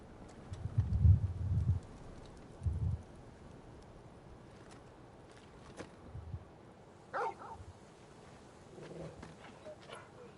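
Torgal, a dog in Final Fantasy XVI, gives a few loud barks early on, then a couple of sparser, softer barks over faint game ambience and brief other sounds.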